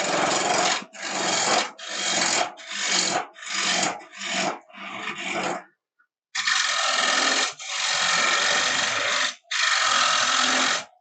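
Lathe tool cutting into a spinning wooden candy dish blank, a loud broadband rasping scrape in repeated passes of about a second each, with a brief pause midway and then longer sustained cuts.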